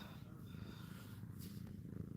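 Quiet, close purring from a rescued house cat, a soft continuous rhythmic rumble with no voices over it.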